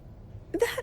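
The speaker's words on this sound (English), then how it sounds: "That was an excited yawn" A game character in Wuthering Waves gives a short, excited yawn, a brief breathy vocal burst rising at the end of a near-silent moment.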